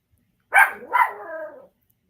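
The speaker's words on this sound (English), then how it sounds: "Now she want to bark." A pet dog named Rainbow barks twice in quick succession at close range, the second bark trailing off into a drawn-out, whining yelp before silence.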